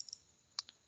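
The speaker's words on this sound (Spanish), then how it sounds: "Doble clic." A computer mouse double-clicking during database work on a PC: two faint, quick, close-together clicks, preceded by a couple of tiny ticks, in an otherwise quiet room.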